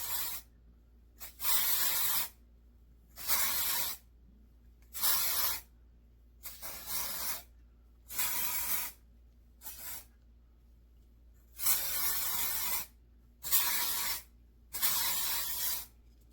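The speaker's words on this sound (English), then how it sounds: "I would add more dry shampoo. So let's do that." Dry shampoo sprays onto dirty, oily hair in a series of bursts, about ten loud, close hissing sprays of roughly a second each, separated by short silent pauses.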